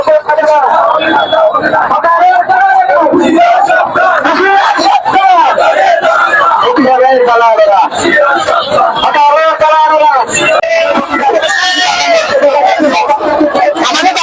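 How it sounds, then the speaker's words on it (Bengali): Hawkers staging a sit-in protest in front of Sylhet City Corporation chant slogans loudly together, a continuous dense crowd of raised voices shouting and calling out without a break. "তারা স্লোগান দিচ্ছে"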